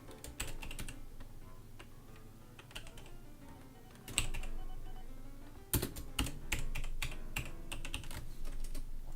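Keys clack on a computer keyboard during a session of OpenTTD, with bursts of rapid taps and louder isolated keystrokes, close and steady, without talking.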